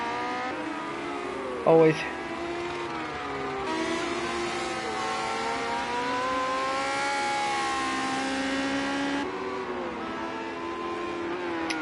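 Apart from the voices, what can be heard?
race cars driving at Brands Hatch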